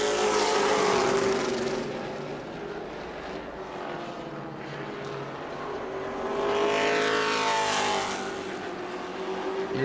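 Race cars running down the front straightaway at New Smyrna, engines roaring loud near the start, easing off in the middle, then a second pack sweeping past with rising and falling pitch.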